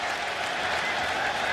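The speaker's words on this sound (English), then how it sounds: "Crowd kicks in" Steady roar of a large crowd in an NFL football stadium during a Browns at Lions game, rising as play begins, broad, continuous and fairly loud throughout with no single voice standing out.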